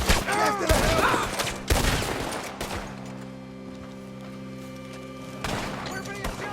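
Gunfire in Red Dead Redemption 2: a loud burst of rapid, overlapping shots in the opening seconds, one more heavy crack near the two-second mark, then a quieter stretch of low ringing hum with shouting voices over it.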